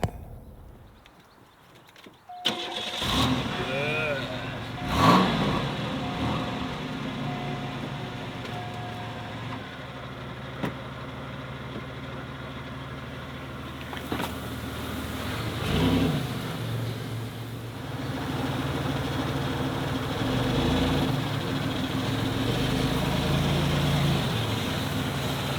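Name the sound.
1991 Oldsmobile Ninety-Eight engine starting and idling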